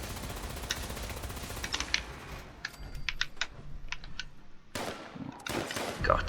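A heavy gun fires in Fallout 76, in rapid clustered bursts of sharp reports with quieter gaps between them, close and fairly loud.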